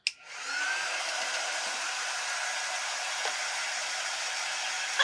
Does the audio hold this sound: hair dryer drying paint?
yes